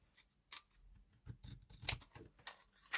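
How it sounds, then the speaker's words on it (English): Scissors snip through craft paper for a punch project, a series of faint, irregular close-up cuts and small rustles with quiet gaps between them. "then cut it about 1/8 inch bigger"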